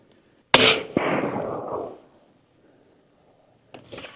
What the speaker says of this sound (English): I'm gonna take 2 shots and you'll see this is a very accurate gun.